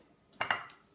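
A Pyrex glass baking pan clinks twice in quick succession against another dish, bright close taps followed by a brief rattle, with no voices.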